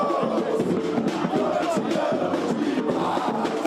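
São Paulo football fans packed into Congonhas airport make a loud, dense crowd noise of cheering and shouting voices, continuous and close throughout.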